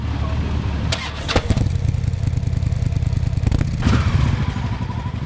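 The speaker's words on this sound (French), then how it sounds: "Les moteurs rugissent" Motorcycle engines start and rumble during a group ride of Christian bikers on a pilgrimage to La Salette, with a loud low drone throughout, sharp clunks and revving bursts standing out, and clattering nearby.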